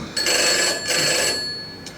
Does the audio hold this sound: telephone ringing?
yes